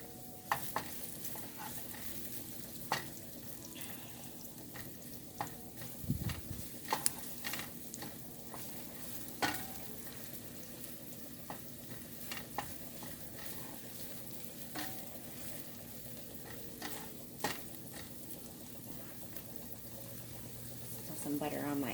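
Chopped onions fry in melted butter in a pan, a soft continuous sizzle broken by repeated scrapes and taps of a spoon stirring, with low-level talk at times.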